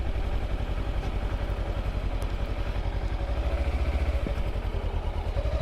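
A Kawasaki Versys X 300 motorcycle ridden by a beginner through town streets, its engine droning steadily and close with a mechanical clatter and a faint rasp, no speech.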